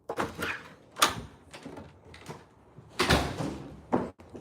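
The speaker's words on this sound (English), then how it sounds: "Y'all heard me just go out the door." A door is opened as a woman steps outside to smoke, giving a few sharp knocks and clunks spread across the moment with quiet gaps between them and no talking.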